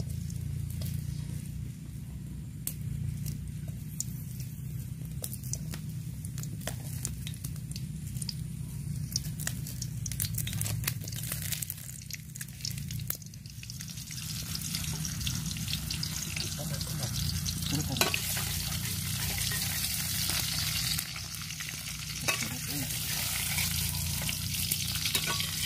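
Onion, spices and water spinach (genjer) stir-fry in a hot pan, giving a steady, dense sizzle broken by scraping stirs, with a few soft voices underneath.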